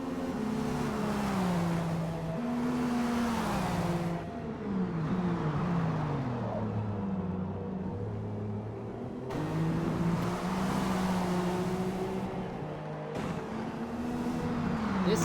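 A race car engine in a Daytona 24-hour sim race revs hard and pulls away, repeated rising and falling gear-shift sweeps, loud and close, with brief dips where shifts cut the note.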